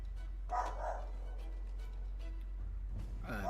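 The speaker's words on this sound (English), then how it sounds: "My dog is barking." A pet dog barks at the mailman in a home: a short burst of barks early on, fairly close, over a steady low electrical hum, with a faint yelp near the end.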